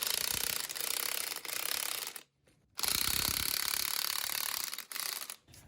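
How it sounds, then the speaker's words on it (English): A wrench ratchets back and forth on the strut bolts of a 2007 GMC Sierra shock and spring assembly, giving steady close, dense clicking in long runs broken by brief pauses. "I'm going to go ahead and tighten these down just a little bit at a time, going back and forth from one post to the other"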